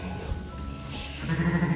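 Ewes bleating in a farm shelter where the first lambs have arrived, a wavering, nasal bleat rising clearly near the end over a low, steady background hum.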